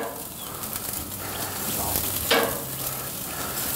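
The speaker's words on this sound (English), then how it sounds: "We're gonna let it grill for a while." Green onions sizzle on a grill with a steady crackling hiss, close by, and a brief sharper scrape or flare partway through.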